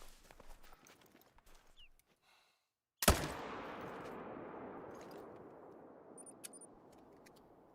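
A single sharp hunting-rifle gunshot in theHunter: Call of the Wild, loud and sudden after near-silence, followed by a long rolling echo that fades slowly across the open landscape, with faint footstep-like rustles before it.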